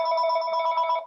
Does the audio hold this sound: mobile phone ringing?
yes